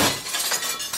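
A glass window shatters in one sudden loud crash, a bright burst of breaking glass that fades into a short scatter of tinkling shards.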